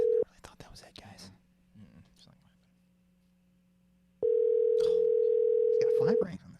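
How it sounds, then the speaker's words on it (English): A telephone call ringing out through the handset, a long steady tone starting partway through, with quiet voices and some handling noise before it. "He's got 5 rings on this bad boy."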